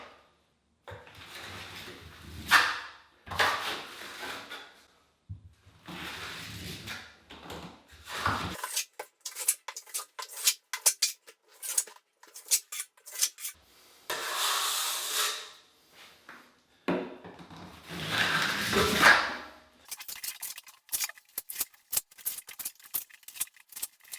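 A trowel scrapes heavy-duty joint compound off a rough wall in repeated close, rasping strokes, some long and some short, broken by brief pauses.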